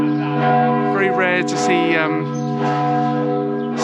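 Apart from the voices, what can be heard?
church bells chiming the midday hour in Celje, Slovenia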